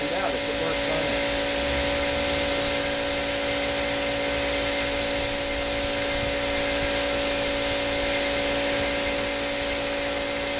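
Spray gun applying a first coat of paint, mixed with almost no thinner, to a Yamaha FZ600 motorcycle fuel tank, a steady close hiss running unbroken throughout with a faint constant hum beneath.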